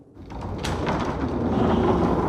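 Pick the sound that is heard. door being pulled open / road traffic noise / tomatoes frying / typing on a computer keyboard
door being pulled open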